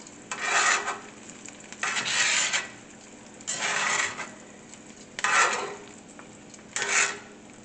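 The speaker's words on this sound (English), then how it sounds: "So I'm going to start to remove the onions." Onions scooped and scraped out of a pot for a pot roast, five separate bursts of rasping metal-on-food scraping with short pauses between, close and moderately loud, no talking.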